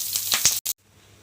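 Curry leaves dropped into hot oil with mustard seeds and cumin in a pan, giving a loud burst of crackling sizzle that cuts off abruptly after about half a second, then fades to near silence.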